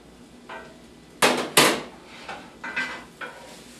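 Cooked onions scooped from a pan into turkey meat, a few sharp metal utensil scrapes and knocks against the pan, loud and close, with softer taps following.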